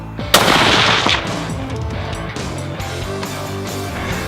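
A rifle fires one loud, close shot while hunting an 8-point buck in Texas. A sharp crack is followed by a long rolling echo and low rumble that fades slowly, with no talking.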